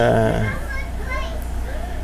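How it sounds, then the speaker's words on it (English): Kids scream and shout excitedly while playing Roblox in another part of the house, high shrill voices loud at first and then continuing under someone talking. "you hear my kids screaming in the background"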